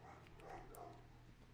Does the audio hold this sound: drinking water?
no